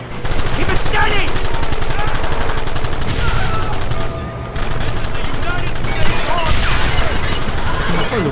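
Rapid gunfire in the Red Dead Redemption video game, a dense, sustained volley of shots close up that runs almost continuously, with voices talking over the shooting.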